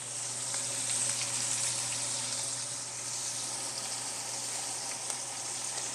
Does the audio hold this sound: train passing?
no